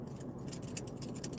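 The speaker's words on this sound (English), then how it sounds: "here's the keys right here." A set of keys jangling close by in short, bright metallic bursts, ending in a louder shake.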